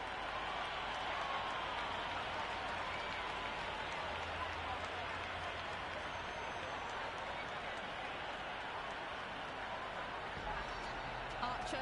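In the Cricket 26 video game, a stadium crowd roars steadily throughout an England versus New Zealand T20 World Cup match, a broad, continuous wash of noise with a commentator talking over it.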